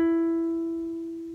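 A single plucked guitar note on the second string, fifth fret, rings out alone and decays slowly, closing a cumbia tablature phrase.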